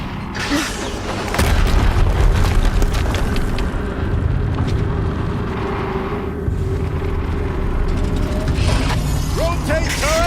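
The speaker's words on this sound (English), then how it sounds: "Another explosion." Explosions boom in the video game Horizon Zero Dawn, heavy rumbling blasts with mechanical clanks and debris, loud and dense throughout, with a voice speaking over the game sound.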